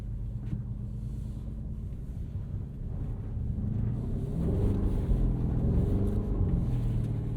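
A 2024 Porsche Cayenne Turbo E-Hybrid Coupe's V8 rumbles low and steady under wind noise as it drives with its wheels slipping, the engine growl swelling louder midway as traction control cuts in.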